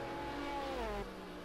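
A GT1 race car sweeps past at Road America in a racing video game, its engine a loud sustained roar with harmonics that slide downward as it passes, then settles into a lower drone.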